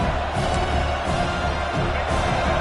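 A stadium crowd in a college football video game keeps up a steady, cheering roar that holds at an even level across the moment.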